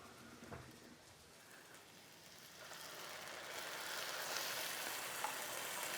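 Potatoes and carrots cooking in a pan after water is added, a dense steady sizzle and bubbling hiss that grows gradually louder and brighter, close and continuous.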